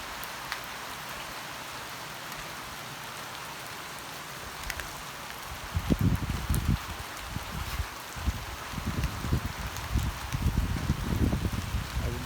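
Rain patters steadily on surfaces, a constant hiss that grows heavier and more textured midway with louder bursts of drops close by.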